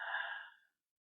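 A single long exhale during a downward-dog yoga pose, soft and breathy, fading out after about half a second into silence.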